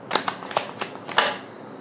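Tarot cards are shuffled by hand close up in a quick run of crisp flicking riffles, several sharp snaps in a row, with nobody talking.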